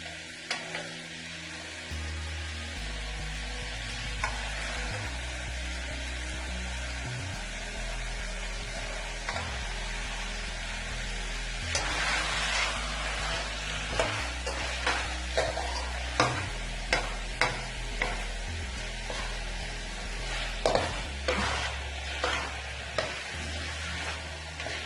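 A spoon stirring beef karahi masala in a pan, with a steady sizzle of frying throughout and repeated scraping strokes that grow louder and more distinct in the second half.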